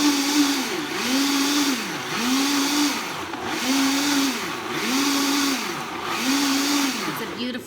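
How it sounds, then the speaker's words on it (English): A blender repeatedly churns a thick raw vegan chocolate mixture with medicinal mushrooms and moringa. Its motor rises and dips in a steady pulsing rhythm, loud and close throughout, with no pauses. "And I'm gonna blend again."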